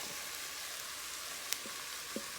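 Mushrooms and onions frying together in a pan for a potato and mushroom quiche, a steady soft sizzle with a couple of faint clicks, no talk.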